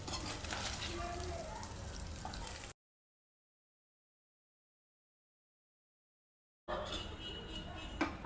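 Bombay duck fish (bombil) frying in hot oil, a steady close crackling sizzle that runs for a few seconds, cuts out, then returns just as dense and busy.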